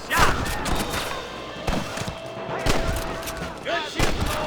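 Gunfire in the Western video game Red Dead Redemption, a series of loud separate shots and heavy impacts spaced roughly a second apart, each ringing out with echoing tails.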